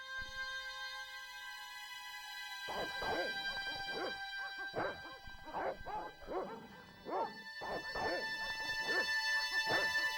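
A dog in the video game Broken Sword: Shadow of the Templars Reforged barks repeatedly in short, uneven bursts over a sustained musical drone, with whimpering yips between the louder barks.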